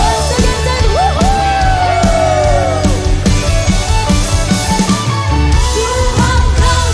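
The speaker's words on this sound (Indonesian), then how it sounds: "Once again say woohoo." A church congregation at a worship service shouts and whoops together, loud and sustained cheering over live worship music for several seconds.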